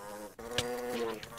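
A worker bee mob in the Minecraft video game buzzes in a steady, close drone for just over a second, with a brief dip near the start and a brighter swell midway.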